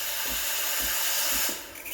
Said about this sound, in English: I'll try to create a hissing sound. That's how I know I'm injecting air for a latte.